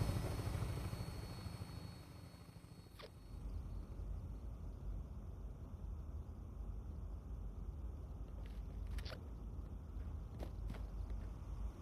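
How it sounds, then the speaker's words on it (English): Steady helicopter rotor and engine drone in the Fallout 76 video game, a continuous broadband roar that holds evenly throughout with a few brief clicks on top. "Don't talk to me while I'm on a helicopter."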